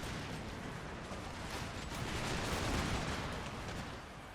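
Musket and artillery fire from an Empire Total War battle rolls on as a thick, continuous din of distant gunshots and booms, swelling a little toward the middle before easing off.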